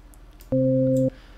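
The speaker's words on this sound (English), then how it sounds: "So notice how the root C note kind of sounds like this" A single steady synthesizer tone on a root C note holds for about half a second, clean and loud, then cuts off abruptly against a quiet background.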